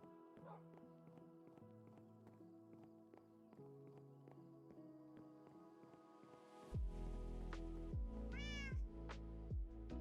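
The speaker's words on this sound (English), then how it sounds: "Take a nap with the cat named Ratha." A cat named Ratha meows in a video game, a few short cries over soft background music, followed by louder low rumbling and a brief rising warble near the end.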